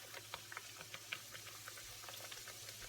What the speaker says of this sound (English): I'll take my sahari pear and I'll just dump it in the oil